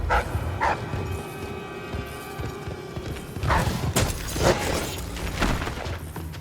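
Dogs barking in the stealth game Dishonored: Death of the Outsider, several sharp barks at moderate distance over clanking mechanisms and a low ambient hum.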